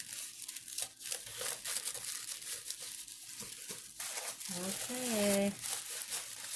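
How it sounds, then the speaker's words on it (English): Paper packaging being torn open and crinkled by hand, close and continuous, with someone talking over the rustling. "I always feel bad tearing this open."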